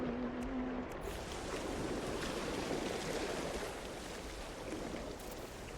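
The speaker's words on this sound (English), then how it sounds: "Yeah, waves work now." Ocean waves in the No Man's Sky video game, a broad continuous rushing surf wash that swells and eases at a moderate level, with no talking.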